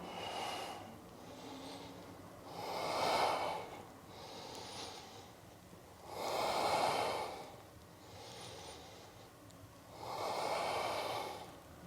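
Slow, deep breathing during yoga side stretches, three long audible breath cycles that swell and fade in a steady rhythm, close and fairly quiet, with no talk.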